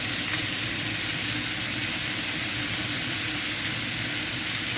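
Pork and vegetables sizzle in a stir-fry pan, a loud, dense, continuous hiss and crackle of frying that holds steady throughout with no talking.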